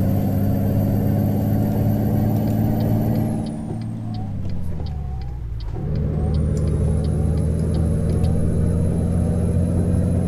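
Freightliner Coronado truck in Euro Truck Simulator 2 rolling on the road, a steady low diesel drone with harmonic layers that dips and shifts around a gear change, then settles back to a continuous loud rumble with faint high ticks.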